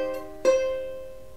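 A single ukulele A string fretted at the 3rd fret, plucked twice: a soft first note, then a stronger second pluck that rings out and slowly decays, close and alone.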